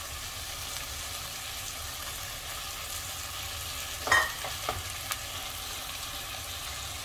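Cut potatoes fry among onions in a pan, giving a soft, steady sizzle throughout, with a few brief stirring clatters near the middle.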